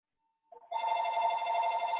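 A telephone starts ringing with a sustained electronic warbling bell tone, loud and close, beginning after a brief silence and continuing steadily, with no one talking over it.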